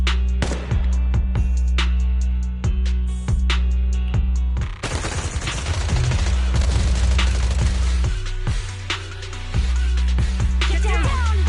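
Suppressive marching fire in the video game Zenless Zone Zero: loud, sustained bursts of automatic gunfire with rapid repeated shots, booming impacts and dense clatter, over a deep rumbling backdrop.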